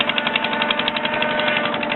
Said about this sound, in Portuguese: Vamos ver aqui o motor do Sisal, que é a nossa produção bem antiga.